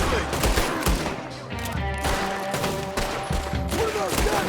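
Gunfire from several guns in the video game Red Dead Redemption 2, dense overlapping shots in a loud, sustained volley of rapid cracks throughout, with game music and other action sounds mixed in.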